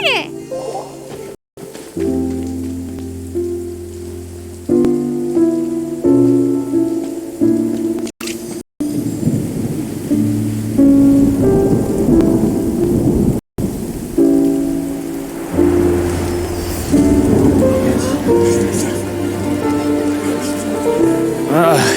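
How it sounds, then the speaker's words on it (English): Steady rain and rolling thunder fill a video game scene, with music playing throughout and a few brief cutouts. "Oh, huh? It's raining!"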